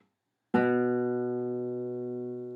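A single low B note plucked on the second fret of a guitar's A string, a clean close attack that rings out and slowly fades, with no other sounds.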